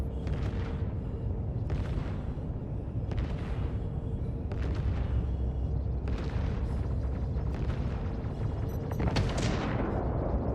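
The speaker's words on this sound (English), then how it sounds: "Look at where the PDCs are firing." Point defense cannons firing in a space combat game, repeated bursts of sharp crackling shots at roughly one-second intervals over a constant low engine rumble, the last burst brightest and loudest.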